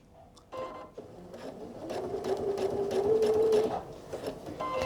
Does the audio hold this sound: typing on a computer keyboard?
no